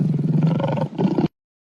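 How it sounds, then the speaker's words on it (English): A lion's roar from a 4D animals app comes as one deep, close, rumbling call with a short dip before a final push, then cuts off abruptly into silence. "lion"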